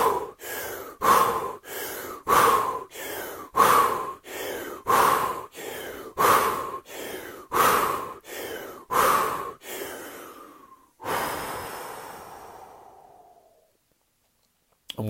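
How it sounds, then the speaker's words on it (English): Ten deep shamanic breaths in a calm-living breathing exercise, each a forceful, evenly spaced rush of air close to the microphone, ending in a longer slow exhale that fades to silence. "So let's do 10 shamanic breaths."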